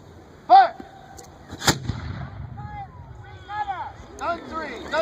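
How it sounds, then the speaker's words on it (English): A light 3-pounder cannon on a grasshopper carriage fires once with a sharp, loud boom, and a second heavy report follows about a second later. Shouted commands and crowd voices surround the shots at an outdoor historical reenactment. "These mobile cannons are light 3-pounders, mounted on grasshopper carriages."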